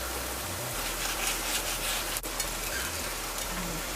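A squash roti fries in oil in a pan, a steady close sizzle with a soft scrape or stir partway through, no talking.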